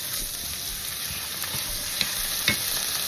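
Meat and onions fry in an oiled pan as sauce goes in for a char siu bao filling, giving a steady, close sizzle with a couple of soft utensil clinks.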